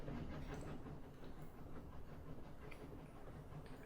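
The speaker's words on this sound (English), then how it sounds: "We boarded a Chinese steam train at Karimskia station." A Chinese steam train in the video game 80 Days rumbles along with a low, steady rolling clatter and hiss, faint and continuous throughout.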